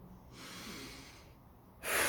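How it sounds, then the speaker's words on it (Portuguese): A deep breath drawn in, a broad breathy rush that swells and holds for over a second, then a sharper, louder burst of air near the end, close and alone without talk. "respira fundo"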